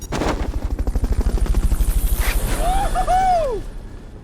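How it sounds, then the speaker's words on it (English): Fulton recovery helicopter in the video game Metal Gear Solid Peace Walker, a loud, rapid rotor thumping that pulses steadily for several seconds, then gives way to a rising and falling whistle-like tone as it fades. "Fulton recovery helicopter is complete"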